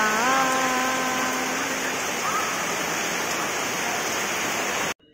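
Heavy rain pours down steadily in a village garden, a dense, loud, continuous hiss that holds at full strength before cutting off abruptly near the end; a voice speaks briefly over it early on.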